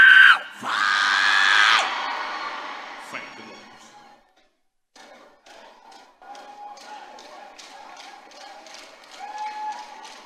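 A church congregation erupts in loud shouting and screaming of "fire," a dense crowd roar that then thins into scattered claps, taps and overlapping voices.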